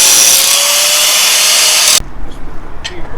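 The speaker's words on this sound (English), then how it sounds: "Grinding the edges off so Mike can weld this." An angle grinder grinds the edges off steel for welding a cradle cart, a loud, steady broadband whine that runs for about two seconds and then cuts off, leaving quieter shop noise.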